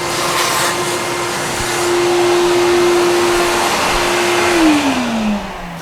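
Vacuum sucking dust out of an opening, a loud, steady close whine that holds its pitch, then winds down and drops in pitch near the end, no talking.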